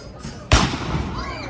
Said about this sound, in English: Oh, here goes the cannon.